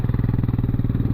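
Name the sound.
off-road motorcycle engine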